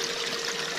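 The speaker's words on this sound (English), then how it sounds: "I've got a Gold Hog Multisluice, got a catch bucket, a larger bin below to recirculate the water." Water recirculated by a 1200 gallon per hour pump runs through a Gold Hog Multisluice into a catch bucket and bin, a steady close rushing trickle, brief and unbroken, with no voices.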